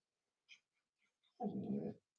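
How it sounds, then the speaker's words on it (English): A dog whimpers in a few faint, high whines, followed by a louder, breathy snuffle or huff close to the microphone, in a quiet indoor room. "I don't want no more dogs in my face"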